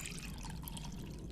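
Faint, soft trickling and dripping as water collects in a pot in the folk horror adventure game The Excavation of Hob's Barrow, a short, quiet, steady liquid burble.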